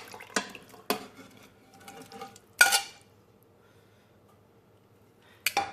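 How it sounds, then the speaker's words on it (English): Browned meat goes back into a pressure cooker pot with a few sharp clanks and thuds, a wet stir and scrape in between, and a final clatter after a quiet pause. "it's time to add the browned meat back into the pot"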